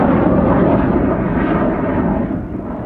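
A Sukhoi Su-25 ground-attack jet roars loudly overhead, a dense broadband engine rumble and rushing noise that holds steady and eases slightly toward the end, with no voices.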